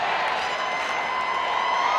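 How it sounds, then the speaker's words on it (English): A stadium crowd at a Portland Thorns versus Orlando Pride soccer match keeps up a dense, steady roar of singing and cheering, loud and continuous with no break. "You can hear it from the crowd. They know how to serenade in this"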